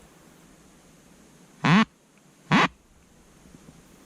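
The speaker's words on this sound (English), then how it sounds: "the duck call I could find was sounding terrible" A poorly working duck call blown twice in two short, harsh, nasal quacks about a second apart, loud and close over a quiet riverside background during a late-season Colorado duck hunt.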